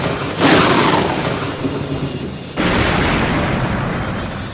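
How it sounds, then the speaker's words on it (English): A Chaos Bolt attack strikes in a monster-fighting video game, bursting out as a loud, thunderous crackling roar, then a second heavy blast surges in partway through and rumbles on to the end. "Let's see how it blocks my Chaos Bolt"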